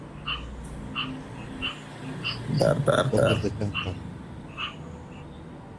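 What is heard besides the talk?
frog croaking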